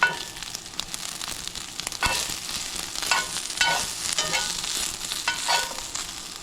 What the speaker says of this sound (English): I'm gonna let the peppers brown a little bit.